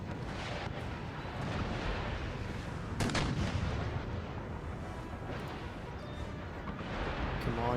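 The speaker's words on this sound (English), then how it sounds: "There's those shots dropping in." Artillery shots landing in Empire: Total War, a rumbling barrage of booming impacts and bursts over continuous battlefield noise, with a sharp crack partway through.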